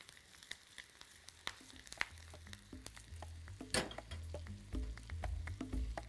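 Chopped bacon sizzles and crackles in a hot pot, a steady quiet fry with scattered pops and soft stirring taps, no voices.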